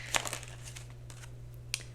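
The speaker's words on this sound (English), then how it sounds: "Give it a little shuffle." A deck of oracle cards being shuffled, giving short crisp papery riffles and crinkles, close and fairly quiet, with a brief burst at the start and another near the end over a low steady hum.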